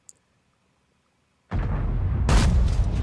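An IS-7 heavy tank cannon shot slamming into dirt in World of Tanks: a sudden loud boom that bursts in and stays as a dense, rumbling roar, swelling again near the end, with no voices.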